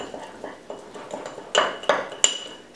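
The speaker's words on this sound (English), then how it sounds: "And now we can just kind of stir this all together." A spoon stirs a thick marinade paste in a bowl, knocking and clinking against the sides in a steady rhythm of about a dozen taps, the last few sharper and louder.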